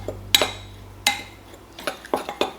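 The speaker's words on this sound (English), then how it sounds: "We're going to mix up all the dry ingredients first." A utensil clinks and scrapes against a bowl as dry ingredients for pancake bread are mixed, giving a handful of sharp, irregular taps and knocks close up, with quiet gaps between them.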